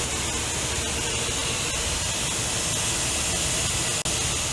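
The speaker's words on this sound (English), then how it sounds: "The bright orange item is an air motor for providing the vibratory force." A pneumatic air motor drives the vibratory bowl on a filling machine for hazardous areas, a loud, continuous hiss of rushing air that holds steady throughout, with a brief dropout near the end.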